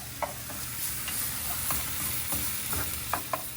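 Garlic sizzles steadily in an oiled pan as it is stirred continuously, with soft scraping clicks from the utensil at irregular moments over a constant low frying hiss, close and moderately quiet.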